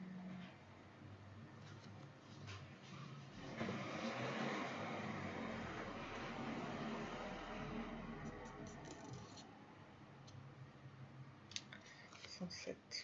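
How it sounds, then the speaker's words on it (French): A car passes by outdoors, its broad rushing noise swelling up, holding for several seconds, then fading away, with a voice speaking faintly around it. "la voiture est passée"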